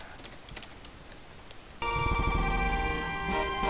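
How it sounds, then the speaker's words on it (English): A computer makes a harsh, buzzing electronic tone while trying to save a screenshot during a Professor Layton and the Miracle Mask game stream. It starts abruptly after a quiet stretch and holds loud and steady to the end. "the sound it makes when trying to save a screenshot is horrible"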